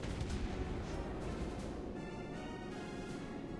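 Naval guns firing in World of Warships Blitz, a dense steady rumble of distant shell fire and battle noise that continues without a break for the whole stretch and fills the mix without letup.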